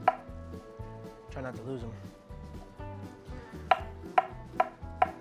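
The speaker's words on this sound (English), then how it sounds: "So we're just gonna slice the rest of this banana up" A knife slices a banana into pieces on a board, giving several crisp, evenly spaced taps near the end, with a person talking over the earlier cutting.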